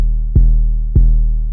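A deep spins bass in an FL Studio jazz-type beat hits twice, each note a loud, sustained low boom with a soft attack, evenly spaced and heard alone.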